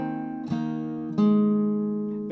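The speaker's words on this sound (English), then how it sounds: "reach up to your 5th fret to the capo with your pinky on the 4th string and just play that" A capoed acoustic guitar sounds a single picked note on the fourth string at the fifth fret above the capo, played amid ringing strings with two sharp attacks, close and clean with no voices.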